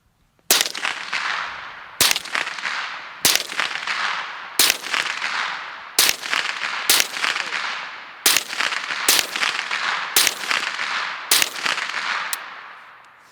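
A twenty-year-old Ruger 10/22 rifle fires .22 Long Rifle rounds outdoors: about a dozen sharp, crisp shots at a fairly steady pace, each a short crack that fades quickly, with no talking.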